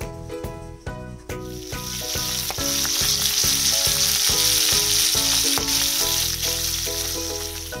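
Fish fries in a pan with a loud, continuous sizzle and hiss, accompanied by rhythmic background music.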